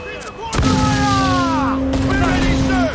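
Cannon broadside fire in the video game Assassin's Creed IV: Black Flag, a heavy booming blast that rolls into a sustained roar of battle noise, with a shouted voice and a steady tone over the din.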